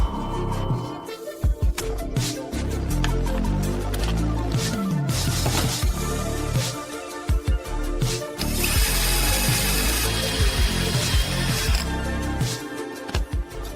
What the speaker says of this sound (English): Assembly fastener Cleco.